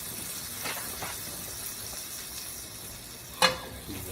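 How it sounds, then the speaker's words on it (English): Two tablespoons of butter melt in a pan with olive oil, giving a soft, steady sizzling hiss with faint crackles and one sharper clink near the end. "2 tablespoons butter. Okay, and let the butter melt."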